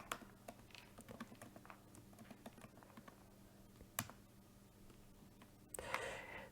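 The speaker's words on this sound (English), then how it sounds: "if I can type" Keys clatter on a computer keyboard in quick irregular bursts, fairly close and soft, over a steady low hum, with a sharper clack near the end.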